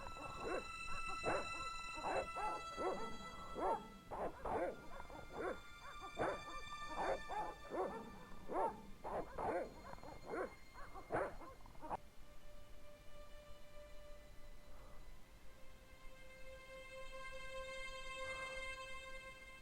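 Several dogs bark in a rapid, loud volley in the Broken Sword: The Shadows of the Templars video game, then fall silent, leaving a steady low hum with faint tones.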